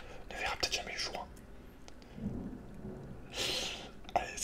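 A World of Warcraft thunderstorm rumbles with rain hissing behind it, and a loud crash of thunder lands near the end, all under soft close whispering.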